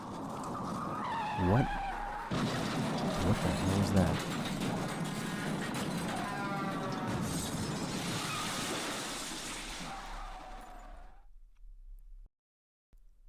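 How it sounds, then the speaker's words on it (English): Car tyres, apparently those of a Cadillac, screech loudly for several seconds before a heavy thud and crash, then everything cuts to silence; a voice speaks over the start. "so you could hear the screech of the tires and the subsequent thud and crash"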